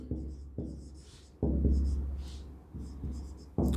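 Marker or chalk strokes on a board during a physics lecture come in short, distinct scratches, several taps and swipes at an irregular pace, fairly quiet and close, with no talking over them.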